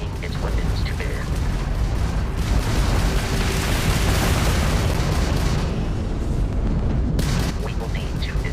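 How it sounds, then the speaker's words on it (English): Spaceship weapons fire in the space combat game Starfield, with a Crimson Fleet ship attacking: loud, continuous rumbling blasts and booming bursts that fill the whole stretch without pause. "that's a Crimson Fleet ship bringing its weapons to bear"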